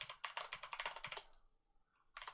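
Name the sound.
keys being pressed on a computer keyboard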